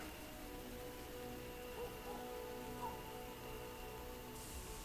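Steady rain falls as a soft, even hiss of patter on surfaces, faint and continuous for several seconds, with no one talking.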